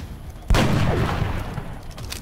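A sniper shot at an alien in XCOM: Enemy Within, one sudden loud blast followed by a long rumbling decay, with no talk over it.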